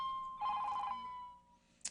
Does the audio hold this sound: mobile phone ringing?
yes